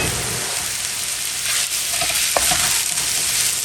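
Cabbage and the white parts of scallions sizzle loudly in a hot pan, a dense, steady hiss with a faint clink of a utensil midway.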